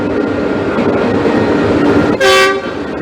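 Passenger train on the Abuja-Kaduna line in Nigeria, a steady loud rumble of carriages running throughout, with a short bright horn blast near the end.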